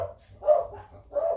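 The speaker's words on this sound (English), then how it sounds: "that's our two dogs barking" Two dogs bark at home in short bursts, about three yips and woofs spread over a second and a half, fairly close and moderately loud, with a low hum underneath.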